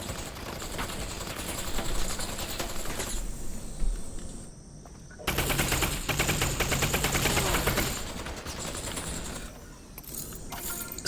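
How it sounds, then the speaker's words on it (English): In the VR shooter Half-Life: Alyx, a burst-fire pistol lets off rapid clusters of sharp, loud shots in close, dense bursts over a few seconds, with quieter mechanical clicks and a brief lull between volleys. "Burst fire pistol time."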